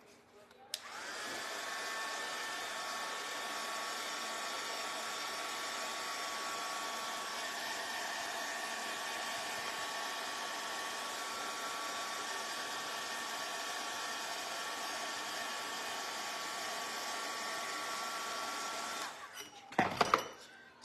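A hair dryer runs steadily for about twenty seconds, drying a painted coating on a small flip-flop craft sign, with a constant close whooshing hum before it clicks off at the end.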